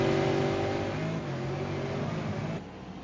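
Engines of V8 Supercars in an ESRA race at Oulton Park drone steadily with a low throaty tone, loud and sustained, easing slightly near the end without any talk.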